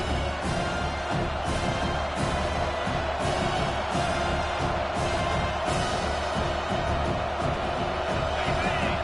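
Home crowd in a football video game roaring on a third down, a dense, steady wall of cheering and noise that stays loud throughout with no clear speech.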